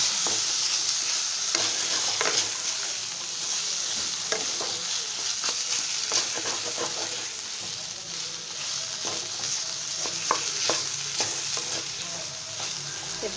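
Spices are stirred into frying cabbage curry, Odia bandha kobi tarakari, in a hot pan: a steady loud sizzle broken by repeated scraping strokes of the spoon, close up, with no talking.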